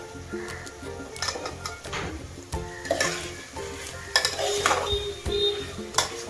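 Soya chunks stirred with masala in a hot pan, a spoon scraping and knocking the metal in irregular strokes over a steady sizzle of frying, close and moderately loud.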